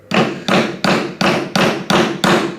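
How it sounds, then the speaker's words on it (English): Seven evenly spaced heavy hammer blows drive a tool through sail material during a sail repair, each a loud close thud with a short decay, no talking. "Just use a hammer."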